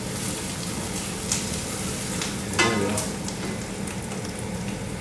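Black sesame seeds toasting and being stirred in a pan, a steady soft crackle and hiss with light scraping and a couple of faint clinks as they keep moving.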